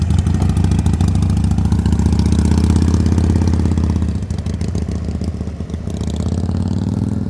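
A motorcycle engine chugs steadily at low revs during slow-speed riding practice, loud and close, with a brief dip in throttle partway through before settling back into an even idle-like putter.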